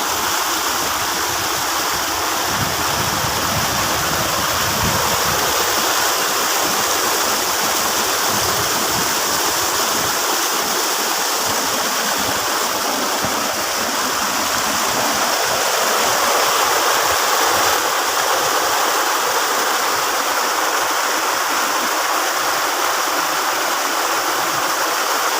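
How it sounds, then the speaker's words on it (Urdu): A waterfall in Soon Sakesar Valley rushes loudly and steadily, a broad constant roar of falling and churning water heard up close, with no voices. "ایک خوبصورت سا واٹر فال دکھایا"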